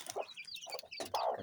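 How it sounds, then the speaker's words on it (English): Young Kienyeji chicks cheep and peep in quick, overlapping bursts close by, recently separated from their mother in a warm poultry-farm brooding room. "And here you have some chicks."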